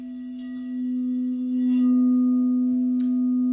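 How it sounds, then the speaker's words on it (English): A Crystal Tones Alchemy crystal singing bowl, the Grandfather Bowl, rings with a pure, sustained deep tone and faint overtones that swell slightly and hold steadily, with a few soft incidental taps in the quiet room. "This is the Grandfather Bowl, the Crystal Tones Alchemy Bowl."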